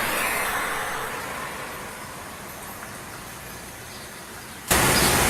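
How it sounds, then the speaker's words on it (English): Steady broadband road traffic rumble from passing cars, continuous and fairly even in level, ending with an abrupt burst of louder hiss near the close. "It picks up traffic very well."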